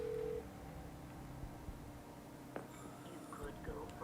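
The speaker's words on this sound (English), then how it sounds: "I'm going to phone a friend here." A short electronic dial tone sounds at the very start of a phone-a-friend call in the Who Wants to be a Millionaire video game, followed by quiet background noise.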